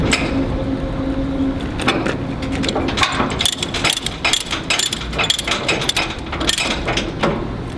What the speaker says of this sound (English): I'm going to go ahead and try to tighten it up again.